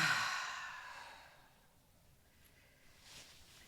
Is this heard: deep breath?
yes